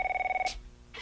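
A telephone rings in a drama scene, giving one clear electronic trill burst, loud and close, that cuts off sharply, followed by a short pause and a faint noisy rustle.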